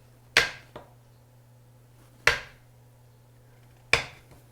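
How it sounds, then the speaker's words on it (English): Three separate sharp knife chops through cold butter for pie crust, cutting it into half-inch chunks on a board, each a crisp close impact with a short tail, spaced about two seconds apart. "I'm slicing them up in 1/2 inch chunks as I go along through the butter"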